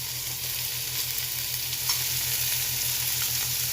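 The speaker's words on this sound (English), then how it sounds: "I'm going to add a little bit of butter" Butter sizzling steadily in a skillet turned down to lower heat, a constant close crackling fry with a low electrical hum underneath and no talking.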